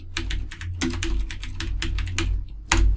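Rapid clicking keystrokes on a computer keyboard during Photoshop work, close and fairly loud, coming in uneven bursts with short pauses and a heavier key hit near the end.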